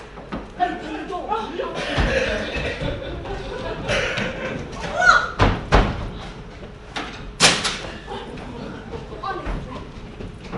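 A door on a theatre stage opened and banged during a play, with a few sharp thumps and a slam standing out between actors' voices and light audience laughter.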